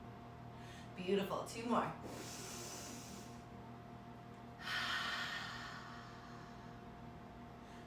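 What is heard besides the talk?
deep breathing during yoga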